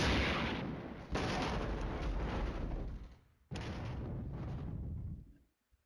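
Artillery fire in the wargame Flashpoint Campaigns, counter-battery guns shelling mechanized infantry: three heavy booming blasts a second or two apart, each with a long rumbling decay, loud and near, before falling silent.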